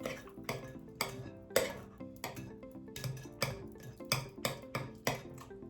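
Banana bread batter being stirred in a bowl, the spoon knocking the sides in a quick, regular series of light clinks and taps, close and fairly quiet, with no voices over it.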